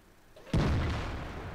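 A tank cannon in the World of Tanks game, a Tortoise tank destroyer, fires one sudden heavy boom that rolls into a long, sustained rumbling decay with no voices.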